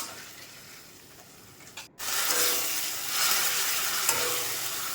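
Garlic and ginger paste sizzles and is stirred in a hot pan for a spicy red chicken curry, a quiet scraping start broken by a brief pause, then a louder steady frying hiss with no talking.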